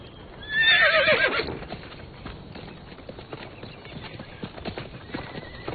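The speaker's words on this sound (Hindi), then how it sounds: "वैसे तुम्हारा घोड़ा आज काफी चिड़चिड़ा लग रहा है।" A skittish, irritable horse lets out a loud whinny early on, then its hooves clop in an uneven, steady patter that carries on to the end.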